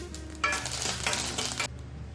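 Curry leaves and red urad dal hitting hot oil for a pineapple gojju tempering burst into a loud, crackling sizzle that swells for about a second, then drops back to a quieter fry with faint utensil clinks.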